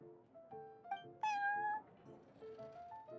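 A cat meows in Genshin Impact, one clear drawn-out meow standing out over a soft game music background, with a few faint shorter chirps around it.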